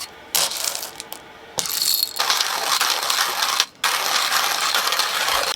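Manual hand-crank coffee grinder crushing beans, a loud close grinding rasp with ratcheting texture, broken by short pauses between bursts of cranking.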